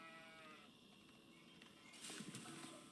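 Sheep bleating in the Age of Empires 4 video game, mixed with other livestock calls over a steady game soundscape, moderately loud for a few seconds.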